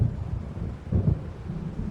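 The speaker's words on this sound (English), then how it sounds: "It seems there's a storm coming." Low, rolling thunder from an approaching storm in the video game Alan Wake Remastered, a deep rumble swelling and fading over a dense, steady backdrop with no voices.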